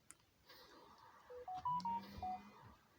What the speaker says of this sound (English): That epic phone just went off.